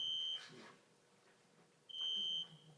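A courtroom alarm emits a steady high electronic beep, sounding once, pausing, then sounding again, moderately loud over quiet room tone.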